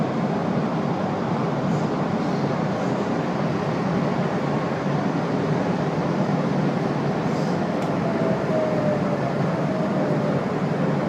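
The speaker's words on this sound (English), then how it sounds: "So it's arriving now into Bulli." Kiama Picnic Train pulling into Bulli station, a steady broad rumble of wheels and running gear that carries on without a break, with a faint high squeal at the rail near the end and no talking.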